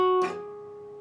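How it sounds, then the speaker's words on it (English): A guitar note rings clearly, then slides smoothly up two frets to the 14th fret of the G string and sustains, played alone with no voices. "after you've picked it, you're going to slide up two frets to the 14th fret of your G string"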